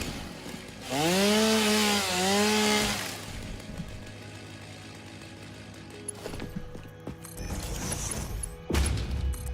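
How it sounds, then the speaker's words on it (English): A chainsaw in the video game Satisfactory revs up into a loud, wavering whine for about two seconds and then cuts off, followed by scattered quieter mechanical clanks and game effects, with no voices. "Yeah, the chainsaw is nice. It is a lot of fun to use."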